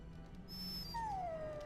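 A dog whines faintly in the video game Dragon Age: Origins, giving a thin, high, drawn-out whimper that slides downward in pitch, alone over a low, quiet background hum.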